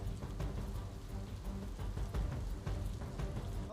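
Heavy downpour over Navsari city in Gujarat during flooding, a continuous wash of rain with a low rumbling undertone. It stays steady and fairly even throughout, with no voices.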